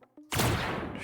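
A single sharp gunshot blast in the first-person game COGITO, loud and close, following a couple of faint clicks and decaying into a broad noisy tail.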